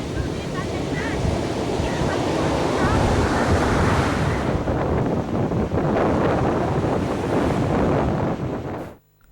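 Sea waves wash continuously against an eroding coastline in northern Chilaw, Sri Lanka, a dense, roaring surf with gusty wind buffeting the microphone, steady and loud throughout before an abrupt cut.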